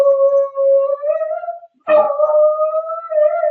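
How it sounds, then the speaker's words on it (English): A sick pet dog howling in long, sustained near tones, broken by a sharp bark midway before the howl resumes, loud and alone. "And then there goes her dog again."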